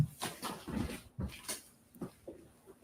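A pet dog makes a run of short, soft whimpers and yips, close by and fairly quiet, spaced irregularly over a few seconds.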